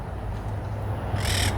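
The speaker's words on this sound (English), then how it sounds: "Look at that, guys. There's parrots up there." Parrots squawk from the trees of an old cemetery in Corpus Christi, Texas, a burst of harsh bird calls rising near the end over steady low outdoor rumble.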